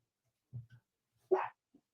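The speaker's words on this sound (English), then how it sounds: "if I can get my dog to shut up" A dog at home gives a few soft, short barks and yips, one louder bark in the middle, close by in an otherwise quiet room.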